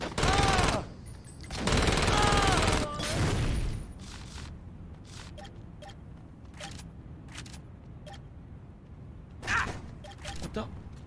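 Gunfire in the video game Saints Row, loud bursts of rapid shots in the opening seconds followed by scattered sharp cracks and pops, fainter and spaced out.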